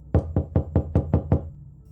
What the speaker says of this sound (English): We heard someone knocking on our door